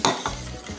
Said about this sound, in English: Keep stirring, otherwise it'll get clumpy.